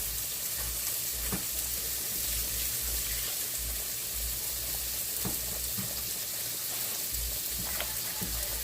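Breakfast sausage fries in a pan beside hot grits and melting butter, giving a steady close sizzle with occasional crackles and soft pops throughout.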